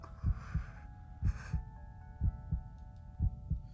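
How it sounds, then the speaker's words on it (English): A heartbeat sound effect from a visual novel game plays as paired low thumps, lub-dub, repeating in a steady rhythm of about three beats. It sounds over soft sustained background music tones, with no talk. "oh my god, that heartbeat"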